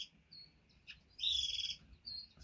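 Small finches, a silverbill crossed with a starfinch among Bengalese, chirp in short high tweets, with a brief burst at the start and a louder sustained twittering run in the middle, close and clear over faint low background rumble.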